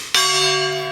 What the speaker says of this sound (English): Let's put it on the gong.